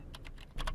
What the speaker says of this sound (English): Nigel's typing.